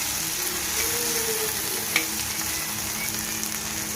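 Okra sizzles and fries in a pan with a steady, even crackle and hiss throughout, one small sharp tick partway through, and no voices.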